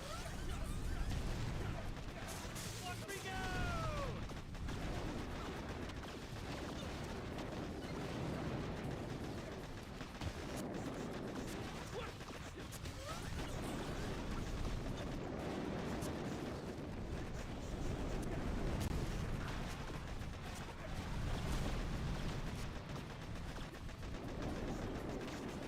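Dense, continuous automatic gunfire from defensive turrets in a video game, bursts overlapping with booms and explosions throughout, loud and unbroken.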